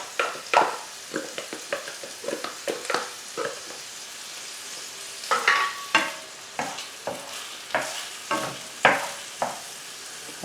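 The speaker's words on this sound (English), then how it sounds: "I've just diced the onion. I'm going to add the chopped garlic." Diced onion and chopped garlic frying in a pan over medium heat, with repeated stirring scrapes and bursts of sizzle in an irregular rhythm, close and moderately loud, no talking.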